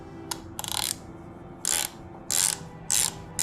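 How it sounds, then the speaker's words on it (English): A bottom tap turning in horrible, dirty threads with WD-40, giving repeated short ratcheting clicks in bursts separated by pauses, close and fairly loud. "I'm using a bottom tap and some WD-40."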